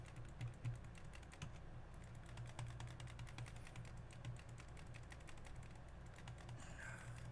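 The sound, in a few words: typing on a computer keyboard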